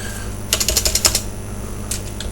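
Text typed on a computer keyboard: a quick burst of about eight crisp key clicks in a row, then a short pause and two or three more taps, close and clear over faint background hum.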